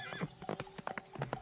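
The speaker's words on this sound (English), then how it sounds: "the horse ran away" Horse hooves clip-clopping at a run in a farm setting, a quick uneven series of close hoofbeats with a brief whinny mixed in.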